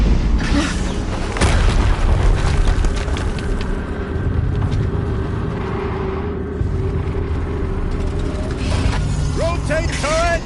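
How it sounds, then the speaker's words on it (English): Rotating tank turret mechanism in the video game Horizon Zero Dawn: a steady grinding, whirring mechanical drone with ratcheting clicks, running loud and continuous over a low rumble, with an explosion-like boom near the start. "Rotate turret!"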